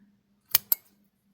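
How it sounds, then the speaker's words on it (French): Scissors cutting crochet yarn: two quick, crisp snips in close succession, close up and quiet against near silence. "Je vais couper le fil."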